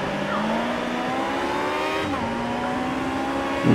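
Race car engines in the Automobilista racing game, Australian racing, hold a loud, steady high rev at the start of a race, with pitch rising and shifting as several cars wind up together, close and continuous.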